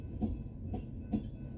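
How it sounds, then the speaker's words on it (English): A train covered in graffiti rolls past nearby, its wheels giving a steady clickety-clack with three evenly spaced rail-joint thumps over a low continuous rumble. "Yeah, so now we have a train."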